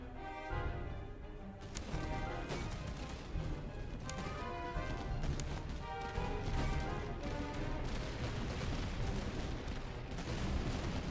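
Massed musket volleys in the Napoleonic-era strategy game Prussia - Master of Command, crackling sharply and repeatedly over a steady, loud battle din. A tonal background runs underneath throughout.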